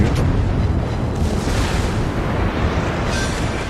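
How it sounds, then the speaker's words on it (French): A citadel shell hit explodes on the battleship Saint-Louis in World of Warships, a loud, sustained, rumbling blast that fills the whole stretch with dense low noise and no talk. "Et voilà, boum, citadelle sur le Saint-Louis"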